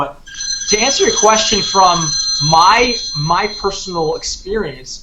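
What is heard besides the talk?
mobile phone ringing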